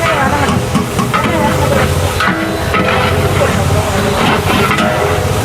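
Chopped onions and tempering spices hit hot oil in a large cooking pot for a food offering, giving a loud, continuous sizzle and frying hiss with people talking over it.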